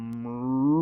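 A human voice imitates a cow's moo in a single long, steady, drawn-out call that swells slightly louder toward the end, heard close and alone.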